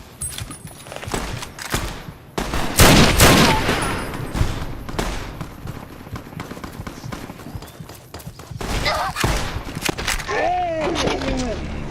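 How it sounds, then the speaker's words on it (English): Enemy gunfire in Fallout New Vegas: irregular bursts of loud shots and cracks, with a heavy cluster near the start and scattered reports later, alongside running footsteps and a person talking briefly over the action. "Why is he shooting me?"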